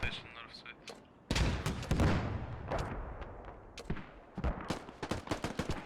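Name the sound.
gunfire and rockets in the video game Squad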